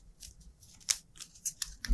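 Stiff game cards from a solo adventure board game being shuffled, giving a few quick crisp riffling bursts at close range with short pauses between them, no voices.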